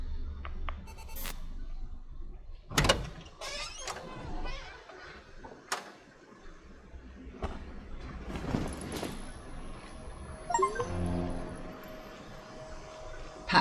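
Door sounds in the horror game The Suicide of Rachel Foster: several sharp thuds and a heavy slam, scattered between quiet stretches and soft creaks, with a faint electronic hum and beeping near the end.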